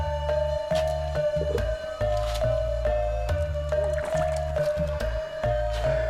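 Water being scooped up by hand at a holy site at Astana Gede in Kawali, a run of close, wet squishing and dripping sounds with repeated splashes and pours.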